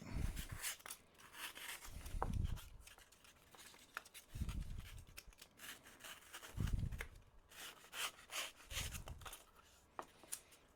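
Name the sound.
knife cutting a chunk off the top of a piece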